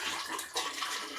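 Fresh water poured from a tub-style container into a sink in a pizza van, a steady broadband splashing rush running throughout at close range with no talk.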